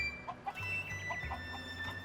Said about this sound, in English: there's also some cuckoos